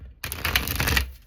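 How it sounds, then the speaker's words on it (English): A card is drawn from a Moonology oracle deck, a brief burst of crisp shuffling and sliding card clatter lasting about a second, close and fairly loud, with no talking. "let's draw from the Moonology deck"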